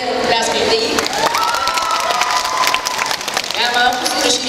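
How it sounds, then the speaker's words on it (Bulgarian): An audience at a cosplay presentation at an anime festival in Varna claps and cheers for a cosplayer, dense applause with shouts and whistles rising over a crowd, a voice speaking through it. "Айде, пляскайте и."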